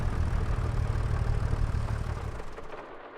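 A tractor engine idles in a farming video game, a steady low rumbling drone close up that fades away toward the end.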